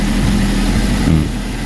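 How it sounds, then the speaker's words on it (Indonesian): A car engine idles steadily after being started, a loud close low rumble with constant vibration and no pauses, heard alone without talk over it. "Kita nyalakan dulu mesinnya. Nah, ini mesin udah dinyalakan ya teman-teman."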